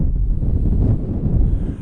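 Strong wind buffets the microphone beside a private lake in the city, producing loud, continuous low rumbling gusts that fluctuate throughout, with no voices.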